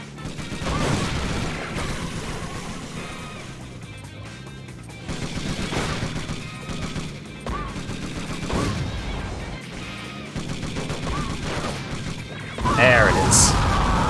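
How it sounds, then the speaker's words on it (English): Repeated booming blasts from remote bombs in the vehicular combat game Twisted Metal 4, punching through busy game audio in irregular bursts, with a louder crash near the end. "I keep dropping remote bombs right on her head."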